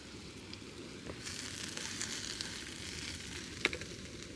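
An MSR Pocket Rocket 2 camp stove burns with a steady, close broadband hiss and roar, with a faint sizzle of food frying in olive oil at an outdoor camp and a brief sharp tick near the end.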